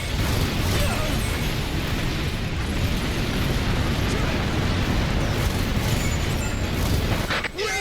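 Fencer artillery weapon in Earth Defense Force 2025 firing and exploding, a continuous roaring barrage of booms and blasts that stays loud and dense throughout with no pauses.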